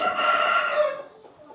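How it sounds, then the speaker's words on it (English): A rooster crows once in a rural Ubud, Bali yard among many chickens, a loud, full call with a long held middle that fades out toward the end. "Yeah, it's so many chicken rooster here."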